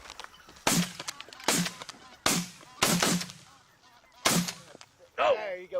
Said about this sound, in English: We had a goose come in, we folded him up